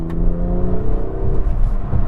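A BMW M240i turbocharged engine accelerates hard, its rising drone and rumble loud and close from inside the cabin, with no talk over it.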